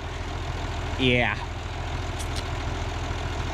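A 1950 tractor's overhauled engine idles with a steady low, pulsing chug, while a short spoken word rises briefly over it.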